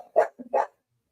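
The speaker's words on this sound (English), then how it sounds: "Some dog must be outside. Lucy's having a heyday at the front door." A pet dog named Lucy barks at the front door indoors, two sharp, close barks with a small grunt between them, followed by silence.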